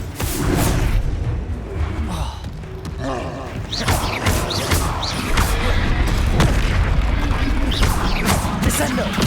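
Spell explosions from Bombarda and other charms in the Hogwarts Legacy video game, a run of loud booms, crashes and whooshing bursts close together, while a voice calls out spell names over the din.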